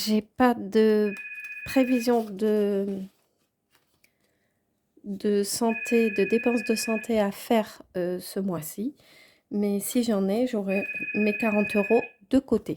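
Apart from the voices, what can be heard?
telephone ringing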